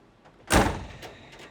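A Convotherm maxx pro combi oven door swings shut with a single firm thud and latch, followed by a brief fading rattle and a couple of faint clicks, close by and without talk.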